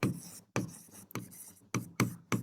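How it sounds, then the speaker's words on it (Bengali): Handwriting strokes on a board during a Class 9 biology lecture, a series of short scratchy bursts in an uneven rhythm with brief pauses between them. The strokes are close and moderately loud, with no talking. "এখানে লিখে দিচ্ছি"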